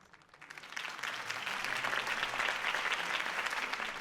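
Crowd applause after a campaign speech in a Batman video game, rising from quiet into steady, dense clapping that carries on without voices.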